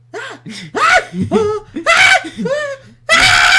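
A keyboard plays a random yelling sound effect, a rapid string of loud, pitch-swooping vocal yelps and shrieks with brief gaps between bursts.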